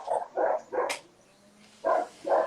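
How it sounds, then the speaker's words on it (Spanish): Dogs barking nearby in the background of a home interview, five loud single barks in two groups with a short quiet gap between them. "tengo perros también, así que pueden que se escuchen de fondo"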